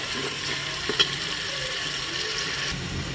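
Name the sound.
frying ginger-garlic-coriander paste with biryani masala in a cooker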